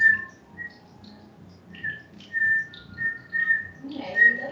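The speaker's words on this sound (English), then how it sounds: "Lily has learned how to whistle." A girl whistles a short, halting tune, with thin clear notes coming in brief bursts and pauses. A quiet domestic kitchen setting surrounds her, with faint background murmur.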